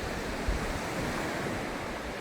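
Ocean surf on a beach in Samaná, Dominican Republic, a steady broadband wash of breaking waves mixed with wind rumbling on the microphone, continuous and fairly loud with no voices.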